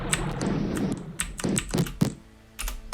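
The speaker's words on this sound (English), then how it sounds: "Oh, I know how to hit this keyboard." A computer keyboard is struck in fast bursts of clattering keystrokes and thumps, near and loud, with uneven gaps and a short lull before a final flurry.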